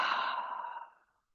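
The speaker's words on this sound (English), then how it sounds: "Big deep breath" A single big deep breath during a hamstring stretching session, a soft airy exhale that starts strong and fades out within about a second, close and alone.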